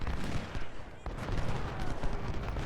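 Artillery pounds away in the Civil War strategy game Ultimate General: Civil War, a dense, distant rumble of repeated cannon fire and musketry blending into a continuous muffled barrage.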